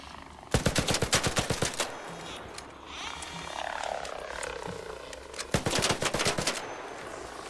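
Rapid bursts of automatic gunfire from a gun in the video game ARC Raiders, one long volley at the start and another near the end, loud and close, with quieter ambient game noise and distant creature-like sounds between.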